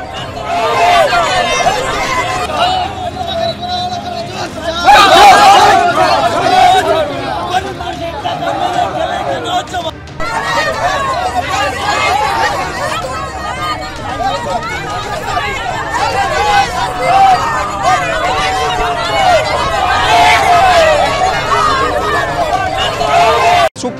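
A crowd of villagers protesting in a procession where tyres are burned, with loud overlapping chatter and shouting voices close by, a dense, restless babble that continues throughout.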